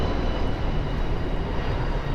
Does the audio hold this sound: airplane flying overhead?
yes